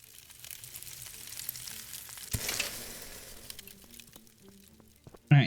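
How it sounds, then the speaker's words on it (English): Berries cook at a food station in the video game Above Snakes, giving a steady soft sizzle that swells briefly midway and ends with a sharp louder burst. "And cook us up some berries"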